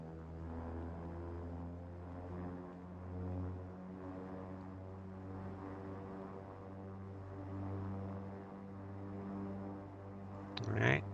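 King Air 350 turboprop engines at ground idle in X-Plane, a steady droning hum with strong low harmonics holding constant throughout, closing with a brief louder rattle or click near the end.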